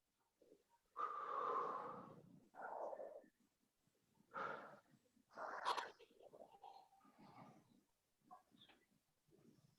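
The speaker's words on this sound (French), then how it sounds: "Et vous soufflez." Forceful breaths pushed out during an abdominal breathing exercise, several strong airy bursts close to the mic, with breaks between them.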